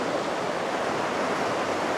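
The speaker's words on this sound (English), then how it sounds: "just watching the water, listening to it go by" Water flowing steadily past a campsite on Alaska's Kenai Peninsula, a continuous rushing wash that stays even and close throughout, with no voices.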